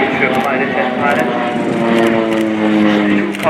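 A Swiss Air Force Pilatus PC-7 propeller training aircraft drones steadily overhead with a loud, sustained engine tone that shifts slightly in pitch, mixed with broadband roar throughout.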